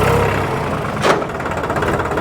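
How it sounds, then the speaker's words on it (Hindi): A New Holland 3600 Heritage tractor engine runs close by with a rough mid-pitched rumble, and a brief clunk from a gear shift breaks in partway through. "गियर शिफ्टिंग में हल्की सी आवाज़ मुझे महसूस हो रही है"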